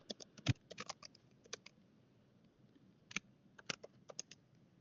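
Quiet, close computer keyboard typing in irregular bursts of clicks separated by short pauses, with no talking.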